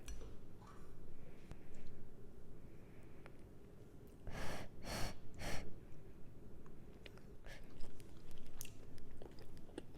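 Someone chews a Frontera fajita chicken kit meal, wet mouth sounds and soft crunches repeating close up, with a burst of louder chomps and breaths in the middle.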